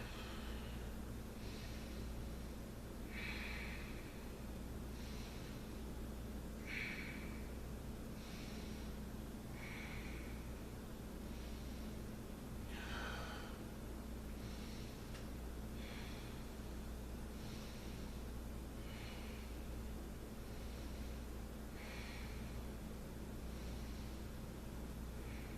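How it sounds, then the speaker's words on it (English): Slow, steady breathing during a yoga forward fold, with about ten rhythmic breath cycles, each a soft airy hiss. The breaths sit close to the microphone and carry on over a constant low hum, with no talking. "take a few deep breaths here"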